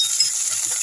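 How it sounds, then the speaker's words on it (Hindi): Onion frying in oil in a pan, with a steady, soft sizzle that holds evenly throughout and a few faint low stirring bumps. "तो प्याज को हम भुनने देंगे"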